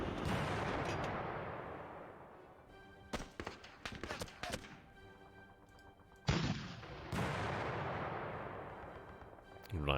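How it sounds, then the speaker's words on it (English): Tank fire in a World War II Pacific video game set in Japan, 1945: a few sharp booming shots and a cluster of rapid impacts stand out over a dense rumbling battle bed, with no talk. "what I'm going to do with you then, the tank, is have you open fire."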